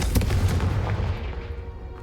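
Confringo fire spell blast from Hogwarts Legacy: a sharp booming burst at the start that rumbles and decays over two seconds, loud and close.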